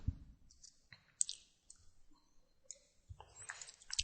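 Computer mouse clicks come in quick, irregular bursts while selecting and dimensioning a CAD sketch, close and crisp with quiet gaps between, no talking.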